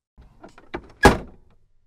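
A car door swings open with a light latch click, followed by a louder solid thunk near the end of the short sequence, close and alone.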